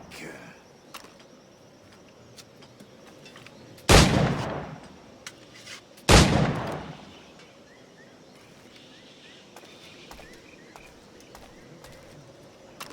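Two loud, sharp gunshots a couple of seconds apart, fired at targets in the pirate-era video game Assassin's Creed Black Flag, each with a decaying tail over quiet ambient game background.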